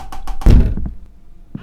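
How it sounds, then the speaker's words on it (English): Knocking on a door in the game Knock Knock: a few quick raps followed by a heavier thump, close and loud, then quiet with a faint last tap. "Knock, knock, knock."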